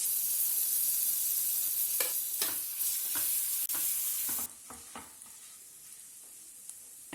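Green chilies frying on low heat in oil with spices give a steady sizzle broken by stirring scrapes and clicks, then drop to a quieter fry partway through, with no voices.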